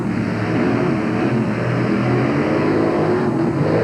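Two 1989 monster trucks, Equalizer and Carolina Crusher, race with engines roaring and revving at high volume, a steady, dense motor drone close by with no talk.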